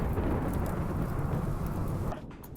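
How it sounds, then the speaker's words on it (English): Loud rolling thunder with a rain-like rush in the video game RimWorld, a dense continuous rumble that fades abruptly near the end, with no voices over it. "Oh, lightning."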